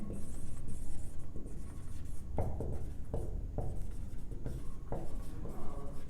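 Writing on a board while solving maths problems, close scratchy strokes repeated in short separate bursts with pauses between them and no talk.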